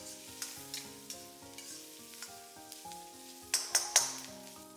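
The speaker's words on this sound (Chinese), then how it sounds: "把青椒炒至断生。" Green peppers stir-fried in a wok over high heat, with a steady sizzle and repeated stirring scrapes, then a few louder clanks of the utensil near the end.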